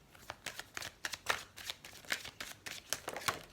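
Tarot cards shuffle steadily close to the listener, a run of crisp papery flicks and soft slaps in a fast, continuous rhythm with nobody speaking.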